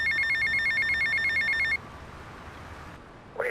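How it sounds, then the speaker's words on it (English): Tommy's phone in the video game GTA Vice City rings with a rapid electronic trill that repeats for nearly two seconds, then stops and leaves a low background hum. "finishing this mission, Tommy's phone will start to ring"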